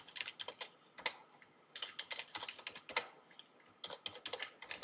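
Typing on a computer keyboard while entering a student's name in a spreadsheet, with quick close clusters of key clicks in bursts and short pauses between them.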